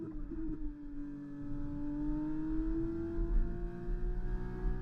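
An F2 car's engine in the F1 2024 racing game at Monza whines steadily upward in pitch through a long acceleration, close and continuous, with no voices.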